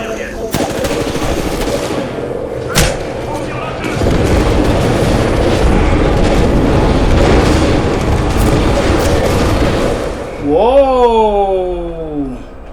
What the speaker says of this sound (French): Je demande une frappe aérienne.